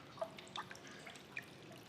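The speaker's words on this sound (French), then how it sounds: "En ce moment, l'eau s'écoule sous nos pieds" Faint, sparse drips of water fall inside Jenolan Cave, a few isolated plinks over a quiet, hushed underground background.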